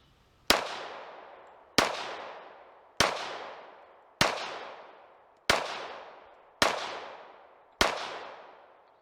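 A Tisas Raider pistol fires seven evenly spaced shots, each a sharp, loud crack followed by a decaying echo, with no voices between them.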